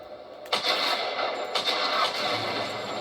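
Shotgun or pistol fire in Tomb Raider Definitive Edition: two loud, sharp blasts about a second apart, each trailing off into a rough, booming tail.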